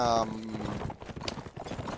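Cavalry hooves clatter in an Age of Empires battle, a busy overlapping clip-clop mixed with game effects; a brief tonal horn-like sound opens, and speech likely runs underneath.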